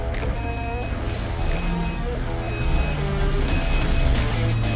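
A CAR MIX JBJ 3.5 cubic metre self-loading concrete mixer truck from 2025 is driven, its engine a dense, steady rumble with whining tones and repeated reversing beeps, close and continuous throughout.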